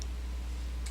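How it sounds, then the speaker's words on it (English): A computer mouse button gives two quick, sharp clicks, one at the start and one near the end of a short pause, close up over a low steady hum. "Left click it."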